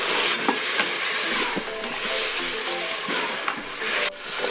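Tomatoes sautéing in an Instant Pot for lentil dal give a steady sizzling hiss, with a few soft stirring clicks scattered through it and no voices.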